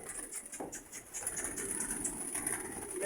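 Pet pigeons in a loft give soft, low cooing that runs faint and steady throughout, with a little background rustle and no talk.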